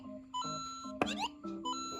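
Electronic beeps and tones from a LEGO Super Mario figure's timer set off by the pipe: a series of short melodic chimes with a bright rising flourish in the middle, close and fairly quiet.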